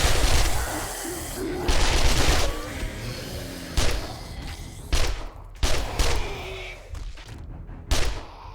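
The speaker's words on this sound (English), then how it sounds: "With the full auto fire on this gun, it really is pretty effective." Full-auto gunfire in the video game 7 Days to Die, loud and dense bursts of rapid shots repeating several times with short gaps between them.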